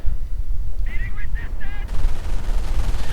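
Machine gun fire rattles through a Company of Heroes match, short rapid bursts over a rumbling battlefield bed, followed by a sharper crackle of more gunfire near the end.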